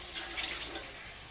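Water poured into a pan of taro greens (kochur shaak) being cooked village style, a soft, steady splashing pour heard close and fairly quiet, continuing for just over a second with no talk.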